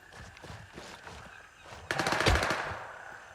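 Gunfire in the Grey Zone Warfare video game: a faint stretch of distant shots gives way to a loud, dense automatic burst partway through, crackling on for over a second before tapering.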